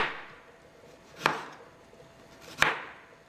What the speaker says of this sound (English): So I'm cutting it thin, but I don't think I need to cut it into like little strips now.